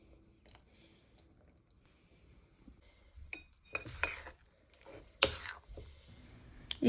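A spoon stirs batter in a bowl for a Kerala snack, making scattered sharp clinks and scrapes that grow busier toward the end over a quiet background.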